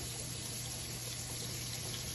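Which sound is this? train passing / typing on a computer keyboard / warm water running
warm water running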